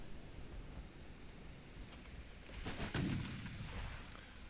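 Naval guns fire in the warship game Ultimate Admiral: Dreadnoughts. A distant rumbling bed of noise builds to a heavier burst of booming gunfire near the middle, then fades back.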